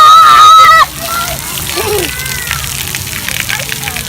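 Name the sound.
water splashing onto someone's feet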